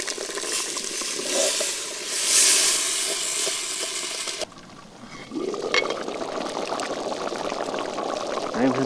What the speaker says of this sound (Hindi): तो इसमें डाल देंगे ये उबाला हुआ सब्जियां और दाल।